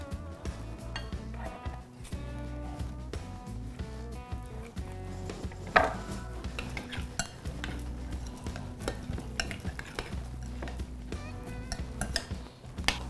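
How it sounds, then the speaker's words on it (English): A utensil stirring lime juice, salt, sugar and avocado in a bowl, giving repeated clinks and scrapes in an uneven rhythm over a low background hum, close and fairly quiet, with no speech. "As the more we stir it around, we mix it around, the lime juice, the salt, the sugars"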